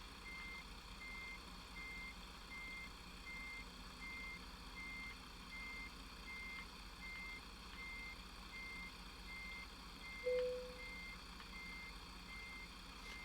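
A truck's reversing alarm in American Truck Simulator beeps steadily at an even, regular rhythm while backing a trailer, over a constant low engine hum, with no talk.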